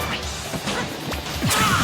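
Greninja's up smash in Super Smash Bros lands as sharp swooshes and a crunchy impact, with several quick whooshing hits over a loud, busy game mix.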